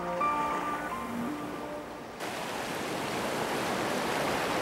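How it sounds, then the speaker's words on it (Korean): Seawater rises with the incoming tide around a seal resting spot off Baengnyeong Island in the Yellow Sea, a broad, steady wash of surf that comes in loudly after soft musical tones fade out. "6시간이면 다시 차오르는 바닷물은 물범들의 휴식의 가장 큰 장애물이다."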